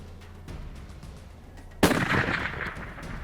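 A single loud rifle shot cracks out during a moose hunt in the Utah woods, sharp onset then a lingering rumbling echo, following a quiet stretch with faint low background hum.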